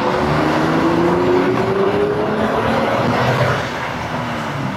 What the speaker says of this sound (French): c'est toujours assez marrant de mettre ses coups de gaz comme ça